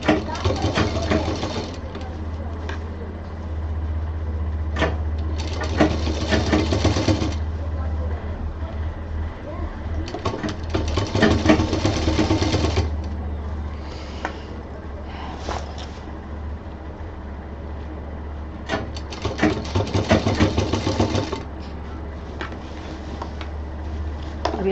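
A sewing machine stitches a pocket onto a homemade baby diaper bag in several separate runs of rapid whirring, each lasting a couple of seconds, with quieter gaps between them where a person talks.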